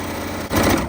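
A sewing machine runs in a steady, close mechanical whir, stitching strips of scrap fabric pieced onto a paper foundation for a rectangle string quilt block, briefly pausing before picking up again.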